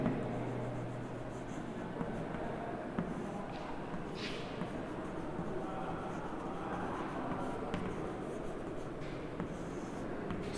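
Marker or chalk writing on a classroom board during a Hindi-language thermodynamics lesson, a steady faint scratching and tapping running continuously under quiet room noise.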